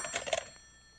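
An old-style telephone bell rings in a 1933 radio drama: a short, bright burst of rapid bell strikes that cuts off and leaves quiet room tone.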